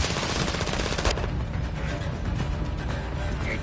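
Rapid automatic gunfire in the shooter video game Modern Warfare 3 during a team deathmatch, a dense burst of close shots that thins into scattered fire.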